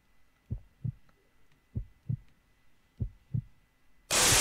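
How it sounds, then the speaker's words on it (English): A slow heartbeat effect from the Luna Game horror game thumps close and deep in three paired beats, then a sudden loud burst of noise cuts in at the end. "I hear heartbeats."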